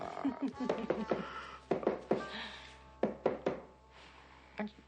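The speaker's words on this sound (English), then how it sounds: "Aren't you going to answer the door?" Knuckles rap on a hotel room door in the middle of the night, several bursts of sharp knocks spread through the clip, fairly close and loud, with quieter background talk in between.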